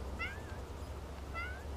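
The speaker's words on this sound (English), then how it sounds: "I don't know if you can see this white cat walking here." A white cat gives two fairly quiet, rising meows about a second apart, over a steady low rumble.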